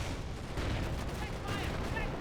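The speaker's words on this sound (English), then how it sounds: "Panther firing away" Panther tank cannon fire in Company of Heroes, deep booming blasts layered over dense battlefield rumble and scattered gunfire, fairly faint and continuous without clear separate shots.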